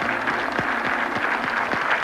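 A studio audience at a 1991 game show applauds the contestants, steady crackling clapping from a crowd with no voices over it.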